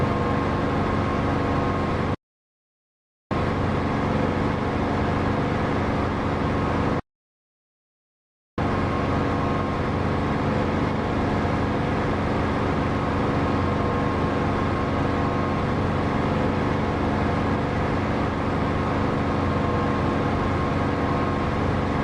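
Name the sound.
aircraft engine in the video game DCS flight simulator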